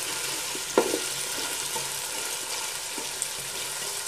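Potatoes and peas fry in a pan for an aloo matar pulao, giving a steady, moderately quiet sizzle with an occasional soft clink or stir near the start and again later.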